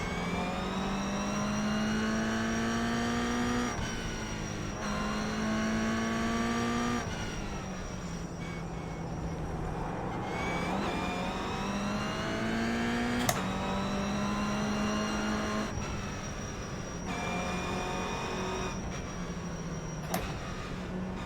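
Toyota GR Cup race car engine idling and blipping on the grid before a rolling start, a loud, close, steady harmonic drone with repeated throttle rises and falls and gear-related pitch shifts, no talk.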